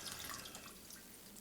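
Alcohol, 750 ml, is poured into a container holding lemon skins for limoncello, making a continuous soft splashing trickle that runs faintly and unbroken throughout.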